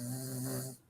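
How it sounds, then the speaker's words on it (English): A man snoring in a room, one drawn-out raspy snore breath that is faint and fades at the end. "He's still snoring."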